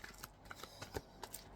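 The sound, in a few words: shuffling Angel Tarot Power Deck cards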